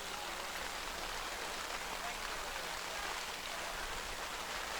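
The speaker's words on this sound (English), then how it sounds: "with hail coming down, they're going to pause this game" Hail pelts down on an outdoor baseball field during a district tournament game, a dense, steady hiss of pattering ice and rain that stays loud and even throughout, with faint crowd or voices buried underneath.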